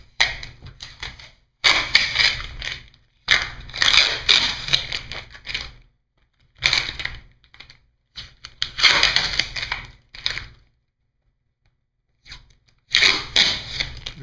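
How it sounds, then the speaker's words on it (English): Vinyl tape being pulled off an exterior post wrap, a series of crackling, ripping pulls in separate bursts with short silent gaps between them, close and fairly quiet. "you can pull all the tapes off"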